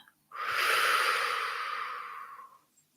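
One long, slow exhale of a guided out breath in a meditation, a soft airy rush that starts suddenly, holds steady, then fades over a couple of seconds, close and alone.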